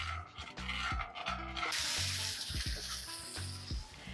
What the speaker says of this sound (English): I'm going to just saute this tofu up as best as I can.